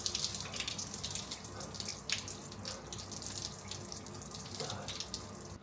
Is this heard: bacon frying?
no